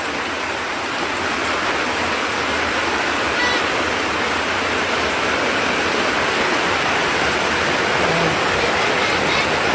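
Steady rushing water, like a waterfall or heavy rain, fills the scene loud and constant for the whole stretch, a broad unbroken hiss with no pauses, in Jamaica after Hurricane Melissa.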